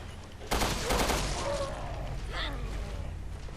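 Gunfire in the survival-horror game Resident Evil: Revelations 2, a sharp burst of shots followed by a few more cracks and a rattling echo, loud and close with faint game sounds behind.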